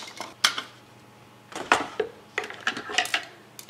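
Scissors cutting through paper straight down the middle, crafting a half witch hat: a series of close, crisp snips in irregular bursts with short pauses between.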